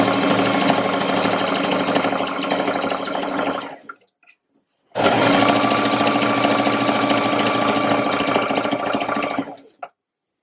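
A sewing machine runs a straight stitch along a curved seam on trousers, whirring steadily and loudly for about four seconds, pausing briefly, then stitching again for nearly five more.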